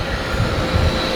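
Jet airliner engines spool up for takeoff, a steady, loud broadband roar with a deep rumble, continuous and close, with no voices over it.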